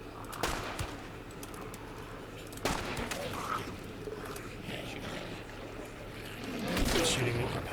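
Gunfire in a fantasy video game aimed at a pack of hellhounds: scattered bursts and single shots with a few sharp cracks, fairly quiet and set against a low steady background.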